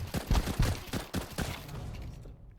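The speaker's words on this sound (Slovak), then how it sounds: "Strelil som ho dvakrát." Rapid volleys of gunfire from a Counter-Strike style shooter game, several bursts of close, punchy shots in the first half-second to 1.5 seconds, then tapering off into quieter rumble and near silence.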